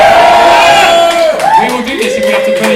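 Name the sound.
audience cheering at comedy show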